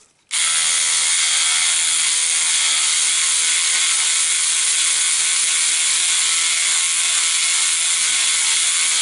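A Sonic Scrubber cleaning brush switches on and runs against a vintage radio, a loud, steady, high buzzing whir that starts abruptly and holds without a break.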